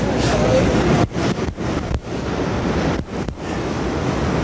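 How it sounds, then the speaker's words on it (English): Huge winter storm surf crashes against a seawall in a continuous, loud roar of breaking waves with heavy wind buffeting the microphone and a few brief dips between surges. "Crashing against the seawall is that huge surf"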